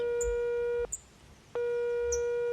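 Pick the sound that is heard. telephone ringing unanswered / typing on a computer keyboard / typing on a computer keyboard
telephone ringing unanswered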